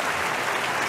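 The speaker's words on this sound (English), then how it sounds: "Clap it up for the third time in a row." Applause sound effect in a Yandere Simulator gameplay commentary, a brief, steady burst of crowd clapping, moderately loud and alone, lasting under a second.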